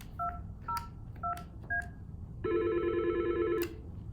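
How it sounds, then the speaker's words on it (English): An Intermax Voice desk phone gives a few short electronic beeps, then breaks into a loud sustained multi-tone ring lasting about a second, heard alone with no talking. "Phone begins ringing"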